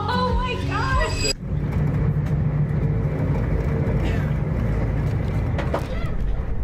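A steady low rumble from inside a moving train runs throughout, with a brief burst of voice or music at the very start before the rolling noise continues alone.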